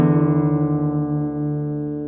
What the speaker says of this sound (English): play the D string, the 4th, and play the 6th string along with it while detuning it until you hear them align.